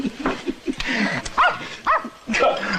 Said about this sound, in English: Call off your dog, Bossy.